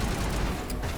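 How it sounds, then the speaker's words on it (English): Shotgun fire in the video game Mass Effect: Legendary Edition, a dense, roaring burst of gunfire and combat noise packed into about a second, loud and continuous with no clear gaps. "Nope, that's shotgun."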